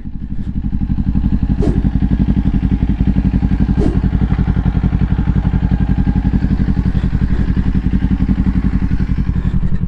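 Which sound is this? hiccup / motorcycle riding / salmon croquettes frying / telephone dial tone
motorcycle riding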